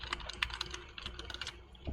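Rapid clicking keystrokes on a computer keyboard while a formula is entered into an Excel cell, a steady close patter of light taps with no voices.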